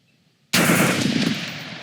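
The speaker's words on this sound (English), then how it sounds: "this is clearly a semi-automatic firearm" A semi-automatic rifle fitted with a bump stock fires a rapid burst outdoors, beginning with a sharp loud report after a moment of quiet and continuing as a dense, fast string of shots.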